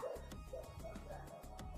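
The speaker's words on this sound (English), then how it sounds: "Ignore the dogs." Dogs barking and yipping faintly in the background, a few short muffled barks spread over less than two seconds, distant and low in level.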